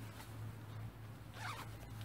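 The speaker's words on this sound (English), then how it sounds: "I like to choose the ones that have zips up the side" A side zip on waterproof trousers is pulled in one brief, faint zipping stroke over a steady low hum, with no speech.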